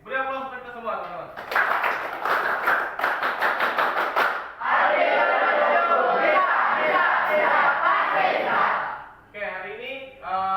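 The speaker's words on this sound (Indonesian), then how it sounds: "beri aplaus untuk kita semua teman-teman" An indoor audience at a trainer certification session breaks into loud, sustained clapping and cheering, with a presenter's voice heard before and after the applause.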